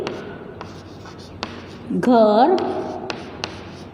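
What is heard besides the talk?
writing by hand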